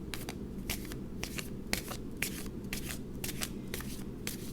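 Tarot cards being shuffled by hand, a close series of crisp riffling bursts repeating in a quick, even rhythm over a quiet room hum.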